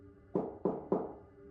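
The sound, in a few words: a man knocking on a cabin door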